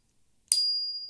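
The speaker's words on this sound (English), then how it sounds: "So this is a mini XLC bell" A small XLC bicycle bell gives a single bright, sharp ding after a moment of silence, its metallic ring lingering and slowly fading.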